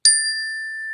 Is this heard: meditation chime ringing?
yes